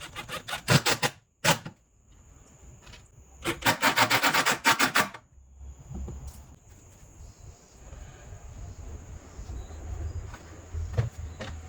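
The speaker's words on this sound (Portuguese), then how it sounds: "eu estou aplicando o acabamento com uma meia enfiada na minha mão" Rough, rasping strokes of a sock-covered hand rubbing wood stain finish onto an old wooden dresser come in repeated bursts, loud and close, separated by quieter pauses and followed by softer low handling noise.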